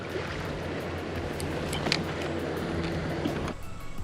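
Boat motor idling on Lake Erie, a low steady drone close by under wind and lapping water, with a few faint clicks and knocks throughout.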